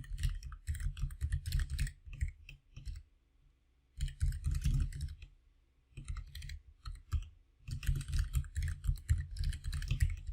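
Fingers type Java print statements on a computer keyboard, producing close, rapid clicking in bursts of a few seconds separated by short pauses, with no talking.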